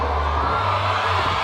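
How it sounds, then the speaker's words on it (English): A stadium crowd at a 2021 Tuskegee vs Fort Valley State college football game night holds a dense, steady roar with no distinct peaks, loud and continuous throughout. "Great crowd tonight"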